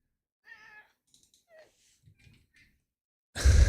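A pet cat gives several soft, short meows and chirps spaced through a quiet room, close to the listener, ending in a sudden loud rustling burst.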